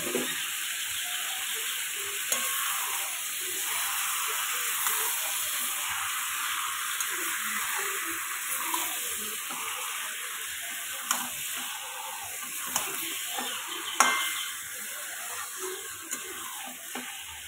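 Marinated chicken goes into a pan of frying spice masala with oil. A continuous close hiss and sizzle carries through, broken by scattered light scrapes and taps from stirring.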